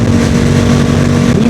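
A Yamaha MT-07 motorcycle with its CP2 parallel-twin engine and an R6 throttle tube, a loud close steady engine drone holding an even pitch while riding, no voices.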